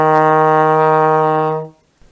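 One long E flat on a trombone, slide in third position, a warm, steady brass note held for well over a second and then released, played alone near the listener.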